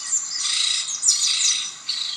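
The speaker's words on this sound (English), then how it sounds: "I just want the video of the sound of the birds going." Birds chirping and twittering in bright, overlapping bursts, a dense continuous chorus with brief dips between phrases, clear and fairly close with no voices.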